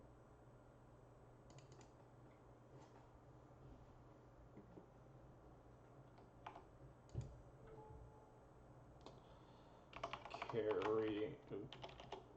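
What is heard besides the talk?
typing on a computer keyboard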